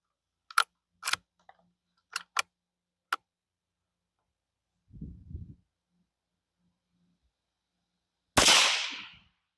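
Sharp, distant-sounding cracks from a Savage Mark II rifle chambered in .21 Sharp rimfire, fired in a loose irregular sequence with gaps between them, followed later by a louder burst of noise.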